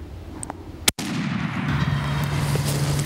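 A single sharp gunshot fired at a turkey during a hunt in an open field, one loud close blast followed by outdoor ambience and a faint steady hum.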